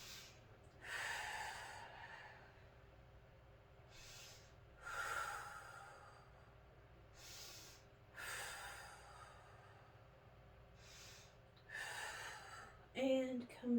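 Deep breathing during a yoga flow, with slow, audible inhales and exhales spaced a few seconds apart, close to the listener and fairly soft, without talking.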